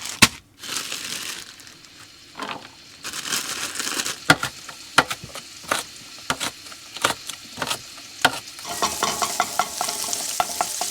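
Chorizo sizzles and fries in a pan on a camp stove in a winter van, with a steady crackling hiss broken by scraping and stirring clatters of a utensil against the pan.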